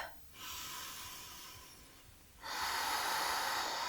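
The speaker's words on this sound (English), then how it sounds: "One more breath." Deep breathing during an intermediate yoga flow: two long, close breaths, each a steady airy rush, separated by a short pause, with the second breath louder and fuller.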